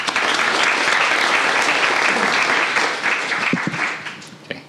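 An audience applauds to welcome speaker Luis von Ahn at a talk on human computation: dense, sustained clapping from a large crowd that holds steady for several seconds, then thins and tapers near the end.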